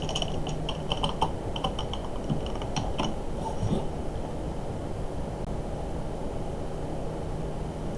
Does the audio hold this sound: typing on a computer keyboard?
yes